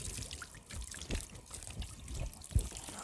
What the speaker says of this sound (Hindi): इसी तरह आप दूसरा हाथ बहुत अच्छी तरह धोएंगे।